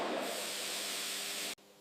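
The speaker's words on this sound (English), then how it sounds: "The carpet passes through a steam box, causing the wool yarns to bloom and stand up fully." A steam box steaming camel wool carpet gives a loud, continuous hiss of steam that cuts off abruptly near the end.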